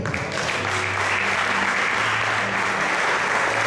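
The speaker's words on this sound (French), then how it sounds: "Est-ce qu'on peut acclamer la parole de Dieu?" A church congregation applauds together in a steady, dense burst of clapping that fills the room and holds at an even level throughout, with no voices standing out.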